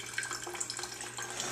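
Vinegar poured into a jar for a homemade dressing, a short steady trickle of liquid with bright splashing, close and alone.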